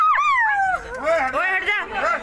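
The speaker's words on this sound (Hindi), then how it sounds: "ये पीछे वो डॉगी है, डॉगी है किसका?" A pet dog whimpers and yips in a high, wavering voice close by at a household gathering for a new bride's homecoming in Haryana, with people talking over it.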